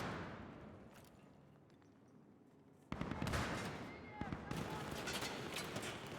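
Rapid bursts of shotgun fire from a video game ring out loud and dense after a quieter stretch, a clustered volley of blasts with sharp repeated cracks.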